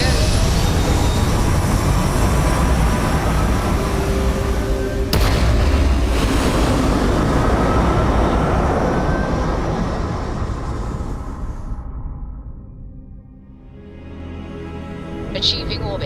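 A spaceship's engines fire for lift-off in Starfield, a loud roaring rumble that builds and holds, then thins and fades away toward near silence before a faint new sound rises.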